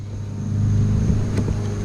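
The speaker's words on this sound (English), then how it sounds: "Sorry about the noise. Everybody's doing lawn work right now" Neighbors' lawn equipment engine drones steadily close by, a loud low hum that swells slightly and holds, with a faint tick or two partway through.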